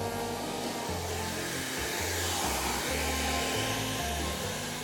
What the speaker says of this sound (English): she's working out on the vibrator belt